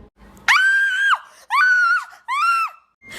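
Woman screaming in a dramatized horror scene, three long, high, sustained shrieks with short breaths between, loud and close with nothing else beneath them.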